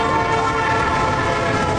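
A runaway freight train in the film Unstoppable rumbles steadily and loudly, its horn holding a sustained blaring tone over the constant roar of the rolling cars.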